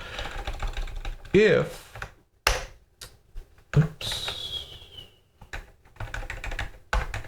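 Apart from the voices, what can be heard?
typing on a computer keyboard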